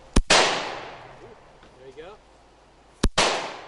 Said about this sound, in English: how to fire a semi-automatic weapon,